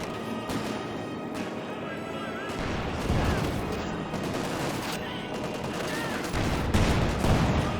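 Gunfire bursts and volleys from the video game Company of Heroes 2 crackle repeatedly over a rumbling battlefield, with heavier thumps later and a commentator's voice running underneath.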